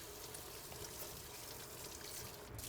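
Water runs steadily from a tap as hands are washed after handling raw poultry, a continuous close trickle and splash with no talking.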